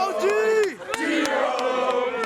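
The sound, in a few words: football teammates shouting on the sidelines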